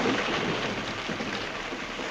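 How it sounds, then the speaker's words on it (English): Rain falling in the film 12 Angry Men, a steady, dense hiss of downpour with a low rumbling undertone, continuous and fairly loud, no voices. "Here comes the rain"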